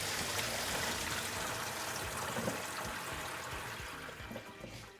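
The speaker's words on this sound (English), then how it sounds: "So I want to drain all this salt water off." Salt water from pickles drains through a colander into a sink, a faint, steady trickle and stream that tapers slightly toward the end, with no talking.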